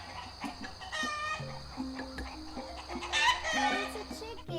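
Farmyard chicken clucking with a rooster's crow rising midway, busy layered calls over a steady low background hum, no talk.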